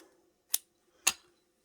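Scissors cut the yarn tails on a knitted Easter bunny gnome made on a 22-pin knitting machine. Two crisp, close snips come about half a second apart against quiet.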